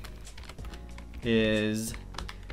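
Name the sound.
typing on a computer keyboard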